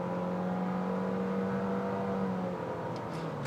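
A Nissan Kicks X-Play accelerating at full throttle on a test track, its engine drone climbing steadily in pitch and then easing after a shift, with a faint whine layered over the hum.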